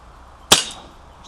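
An Umarex Colt Single Action Army BB revolver fires a single sharp, snappy shot at close range, and the crack decays quickly with no speech.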